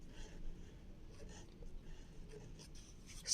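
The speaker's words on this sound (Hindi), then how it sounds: "आपको सबसे पहले इस खाने में लिखना है" A pen scratches quietly on paper while the number 786 is written into a hand-drawn talisman grid, faint close-up strokes in short bursts over a low, hushed background.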